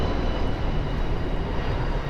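A steady, loud roar of an airplane engine overhead on a Miami, Florida night, continuous and unbroken with no other sounds standing out.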